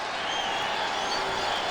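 Crowd noise fills a baseball stadium during a Yankees vs Rangers game, a steady broad roar with scattered applause, heard briefly beneath a faint voice.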